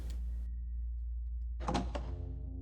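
A door opens in the horror game Decay: The Mare, a brief mechanical whir that cuts off, a pause, then a heavy thunk and clatter as it slides and settles, close over a low hum.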